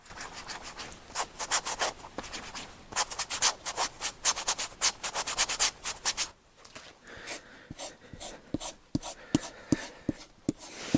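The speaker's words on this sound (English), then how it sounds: "I want to see if I scratch over these a bit" Fingernails scratch over spots on a sheep hide being prepared for oak bark tanning. Rapid rhythmic rasping strokes come close and loud at first, then thin into sparse, crisp scrapes and clicks.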